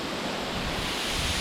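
The Cascade de Couz waterfall roars as a dense, steady, broadband rush of falling water, loud and unbroken, with no voices.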